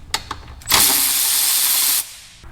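A power tool spinning out T40 bolts around a RAM 1500 8HP70 transmission pan: two short taps, then a loud, steady whirring burst lasting over a second that cuts off abruptly, with a faint click at the end.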